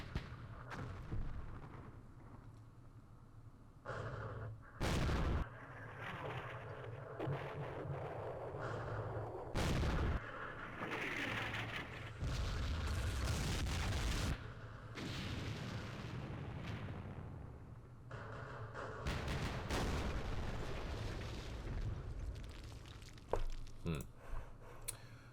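Repeated gunfire and heavy explosions from the Vietnam War strategy game Campaign Series Vietnam, Battle of Ap Bac, with sharp blasts punctuating a continuous loud rumble of combat throughout.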